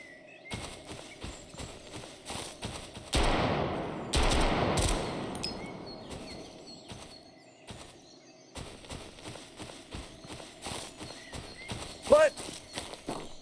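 A PM5K gun fires in Road To Vostok in short bursts of sharp repeated shots with reload clatter between them, moderately close, over a quieter background.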